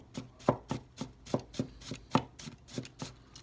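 Harukaze AS 240 gyuto, a lightweight medium-thin kitchen knife, chopping food on a board with about a dozen crisp, evenly spaced knocks, close and clear, with no talk.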